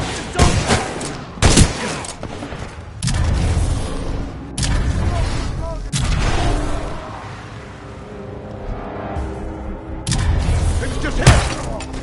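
Gunfire from the video game Titanfall 2 bursts in heavy volleys and sharp blasts that ring loudly, with rumbling booms between them and voices calling out during the fighting.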